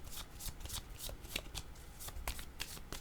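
Playing cards, a tarot-style deck, are shuffled and handled close by, a continuous flurry of crisp riffling and sliding bursts, with no talking.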